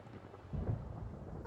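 A Genshin Impact thunderstorm rumbles low and steady, with a deeper swell of thunder midway over a constant wash of rain.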